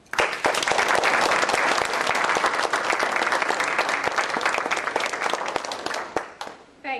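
A lecture audience applauds to welcome a professor, steady dense clapping that fills the room for several seconds and then thins out toward the end.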